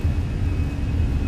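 Jet engines at takeoff power on a Microsoft Flight Simulator easyJet airliner departing Salzburg, a steady loud low rumble with a faint high whine above it.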